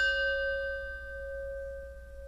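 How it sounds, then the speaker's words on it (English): A single chime strikes once and rings on as a clear, steady tone that slowly fades, sounding alone over a faint low hum. "As we listen to the chime, let us remember our connection to each other and the world around us."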